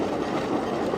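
A train rattles steadily over a small rickety bridge in rural rice-field country, with a continuous close rumble and clatter of wheels and carriages throughout.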